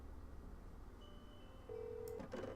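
A phone in a Nancy Drew video game being dialed: a steady low hum, then a sustained beep tone, followed by a short cluster of rapid bright keypad-like blips near the end.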